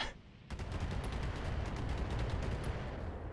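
Dense volleys of missile fire in the mech combat video game Battletech, a sudden loud burst followed by a rapid continuous barrage of launches and impacts.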